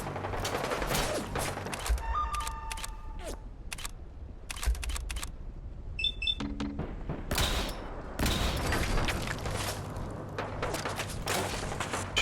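Laser gunfire in Fallout 4 during a firefight: sharp repeated shots in bursts, some crackling, with metallic tones and pauses between volleys, loud and close.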